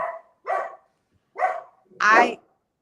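Several dogs bark outdoors in four separate bursts with short gaps between them, the last bark the loudest and fullest, heard from some distance and free of any talk over it.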